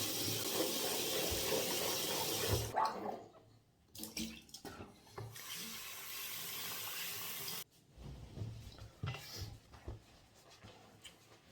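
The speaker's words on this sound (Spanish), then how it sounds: "lo lavas bien con agua" Running tap water gushes steadily as a brush is rinsed under it, breaking off briefly and returning with splashing and handling noise, close by with no talk.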